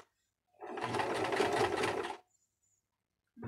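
A sewing machine stitching fabric in one continuous run of about a second and a half, a close, steady mechanical whir that starts and stops cleanly, with no talking.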